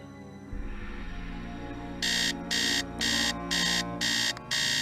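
In a Nancy Drew mystery game, an electronic alarm clock beeps in six evenly spaced bursts over a low steady background hum, clear and close.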